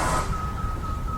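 A bus sounds a single high electronic reversing beep that rings out steadily over low engine rumble, fairly loud and near, with no talk.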